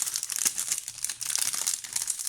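Crinkly plastic or cellophane packaging of scrapbooking and stamping supplies peeled open by hand, a close, steady crackling and crumpling with a short lull partway through.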